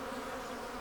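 Robber honey bees swarming at the back of a Flow Hive 2, a dense, continuous close-up buzzing drone with no pauses or voices.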